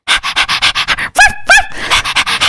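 A woman imitates a puppy with a quick run of rhythmic, breathy barks, then two high whimpering yelps, then more barking, loud and close.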